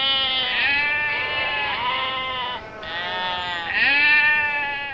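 Sheep bleating loudly and close by in long, wavering, overlapping calls that continue almost without pause.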